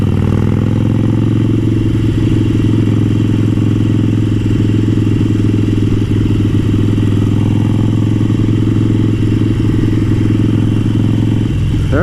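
A Harley-Davidson Sportster motorcycle idles loud and close with a steady, loping rumble for the whole stretch and a faint mechanical clatter, and no voices.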